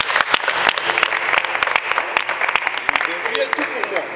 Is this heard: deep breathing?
no